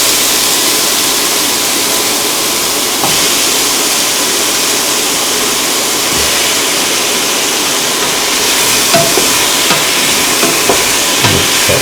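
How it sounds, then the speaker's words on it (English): Pieces of ash gourd go into a hot pan and are stirred, giving a steady loud sizzle with occasional soft scrapes and knocks of the spoon close up, and no one speaking. "Now put in the ash gourd pieces."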